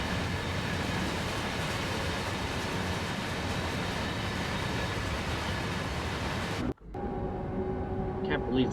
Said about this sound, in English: the Vectron is a very powerful locomotive